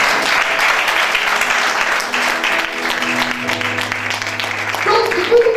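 Church congregation applauding and cheering in praise during a sermon, a broad sustained wash of clapping and voices throughout, with a low sustained tone entering toward the end.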